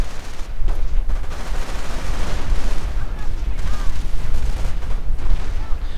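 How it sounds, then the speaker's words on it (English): Assault rifles and other weapons crackle in a dense, continuous battle in a World War II strategy game, rapid overlapping bursts with booms underneath, loud throughout while a commentator talks over the fighting. "It's just an assault rifle that will tear you up."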